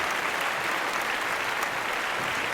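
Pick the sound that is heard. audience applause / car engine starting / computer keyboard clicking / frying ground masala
audience applause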